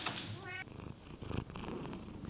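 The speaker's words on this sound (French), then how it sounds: "le chat qui vient de monter sur la table" A cat that has climbed onto a table purrs close by in a low rumbling rhythm, partly under a voice speaking over it.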